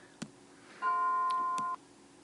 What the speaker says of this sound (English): and then the bell goes